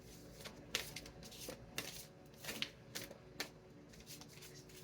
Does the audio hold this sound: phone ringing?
no